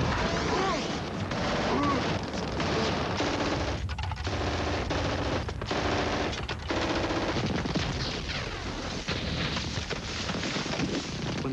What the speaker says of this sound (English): used only the horrific sounds of the World War II machine guns and the rifles